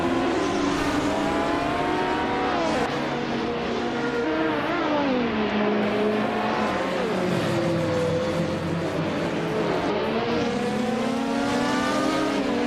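Race cars in a video game race, including a Group 5 BMW M1 E26, engines whining and revving up and down through gear changes, steady and fairly loud with no talk.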